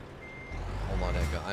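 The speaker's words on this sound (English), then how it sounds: "I'm actively backing up a semi-truck in a construction zone." Reversing beeps from a semi-truck backing up through a construction zone in Euro Truck Simulator 2, a faint steady tone under truck engine rumble and a voice talking, growing louder near the end.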